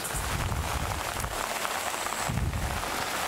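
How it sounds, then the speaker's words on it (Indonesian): Steady afternoon rain falling on surfaces, a dense, even patter close by with brief heavier gusts, no voices. "Sore-sore, hujan-hujan."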